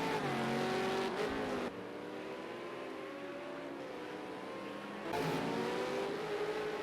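A V8 Supercar in a racing video game pulls out of the pit stall, its engine droning steadily with shifting pitch and a louder revving surge near the end, no talk.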